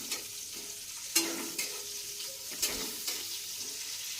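Onions sizzle in hot oil in a home kitchen, a continuous crackling fry with a few sharp stirring clatters and scrapes at intervals, heard up close and with no voices.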